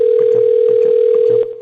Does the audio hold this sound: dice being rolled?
no